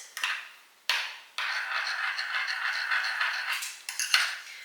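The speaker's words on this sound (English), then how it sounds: "And now I will mix" Utensil working through batter for vegan baking in a home kitchen, a near, steady scraping and clinking against the bowl broken by a few short pauses and sharper knocks.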